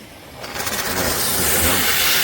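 A Kärcher SC 5 EasyFix steam cleaner switched to full power hisses loudly and steadily, the broadband rush of steam swelling within the first half-second and then holding close and constant with no talking.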